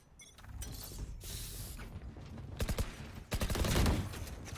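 A gun is reloaded in a shooter video game: a series of mechanical clacks, creaks and metallic clicks, with sharp, loud bursts near the end that may be gunfire, and no voices.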